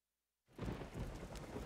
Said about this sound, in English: It's pouring rain.